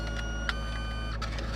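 A printer runs steadily while it prints a photo of a red Mercedes, a close, continuous mechanical hum with a few faint clicks and whirs on top.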